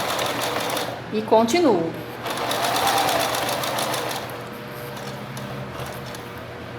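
A sewing machine stitches fabric while backstitching at the pocket of a small hygiene-pouch wallet, a close, rapid mechanical whir that slows and speeds up, with someone talking over it.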